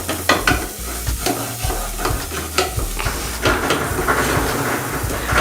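Marinated masala sizzles in a pan on a low gas flame while a spoon stirs and scrapes it in irregular bursts, close and loud throughout.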